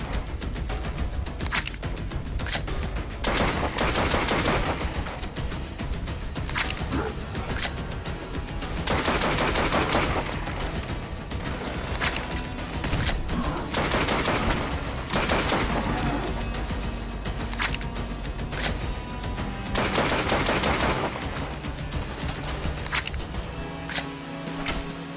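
Automatic weapons fire in the shooter Fallout London, loud rapid bursts of gunshots repeating in clusters across the whole stretch, with short lulls between volleys and no talking.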